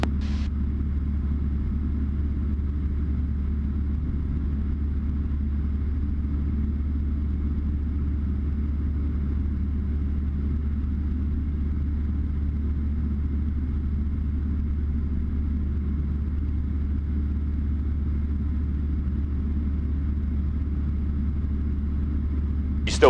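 Cessna light aircraft engine droning steadily inside the cockpit, a loud, unbroken low hum and rumble that holds level throughout, with a faint click at the start and end.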